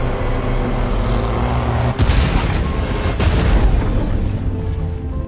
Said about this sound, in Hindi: उसने तुरंत एक ग्रेनेड लॉन्चर उठाया और पास की पहाड़ी चट्टान पर निशाना साधकर फायर कर दिया। जोरदार धमाके से चट्टान टूट गई